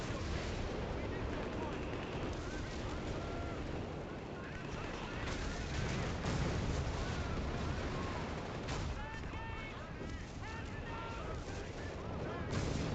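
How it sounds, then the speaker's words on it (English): Artillery bombardment in the strategy game Company of Heroes 3: rolling booms and scattered gunfire and machine-gun bursts layered into a continuous battle din, with voices chattering underneath toward the end. "Random ass artillery is bombing."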